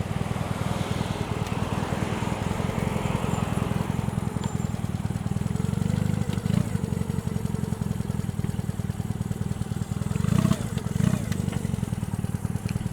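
A motorcycle engine drones steadily at close range while riding, with a strong low rumble, gear changes and brief revs near the end; no talking.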